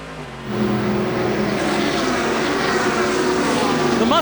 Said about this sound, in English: Yes, that is a Corvette.